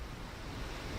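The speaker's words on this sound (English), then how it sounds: "Liftoff of Falcon Heavy with Europa Clipper" Falcon Heavy rocket lifting off with Europa Clipper aboard: a steady, dense roar with heavy low rumble, continuous and loud with no other sound standing out.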